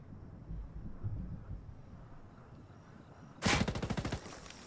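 Rapid bursts of automatic gunfire in a video game as a player shoots at a drone, a sharp rattling volley breaking in abruptly after a quiet stretch and ending within about a second.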